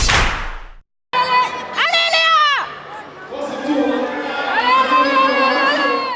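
Children shout and cheer in a lively crowd at a Shetland pony cross event in an equestrian arena, high voices rising and falling continuously, close and loud, with chatter throughout.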